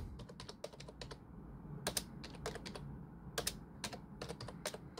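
Bursts of rapid clicking keystrokes on a computer keyboard, typed in short irregular runs with brief pauses, close and fairly quiet over a low background hum, no talking.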